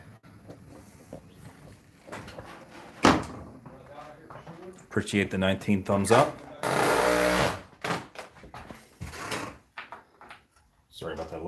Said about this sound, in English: Sorry about that loud noise at the door.